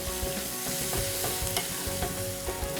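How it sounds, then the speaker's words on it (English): Chopped tomatoes and finely chopped green chilies go into browned frying onions for an Indian dal, giving a loud, dense, continuous sizzle with stirring scrapes throughout, up close and with no talking. "now I'm going to add the chopped tomatoes and the finely chopped green chilies"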